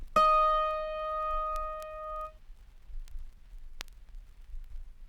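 A single plucked autoharp C sharp string in the higher octave rings out with a bright, clear tone and bell-like overtones, sustaining for about two seconds before fading into quiet room noise.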